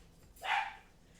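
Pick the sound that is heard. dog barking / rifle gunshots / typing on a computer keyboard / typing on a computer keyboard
dog barking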